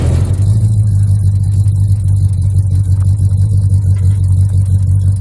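A 1969 Plymouth GTX's engine idles with a deep, steady, loud rumble as the car backs off a trailer, close by and unbroken throughout.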